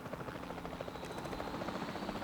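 A helicopter in the video game Jurassic World Evolution 2 gives off a steady, rapid rotor chop with a buzzing whine, close and continuous throughout.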